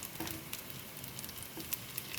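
Meal maker vegetable cutlets fry in oil in a pan, a steady, quiet sizzle with faint crackles and pops scattered throughout and no voices.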